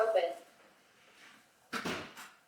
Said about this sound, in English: Garage interior door